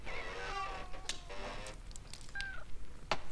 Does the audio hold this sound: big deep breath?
no